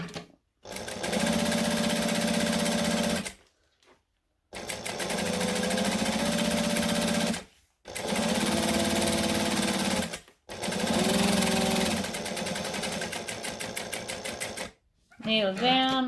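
Sewing machine stitching vinyl in steady, rapid bursts, several runs of needle chatter separated by short pauses, close and clear, with a quick shift in sound at the very end.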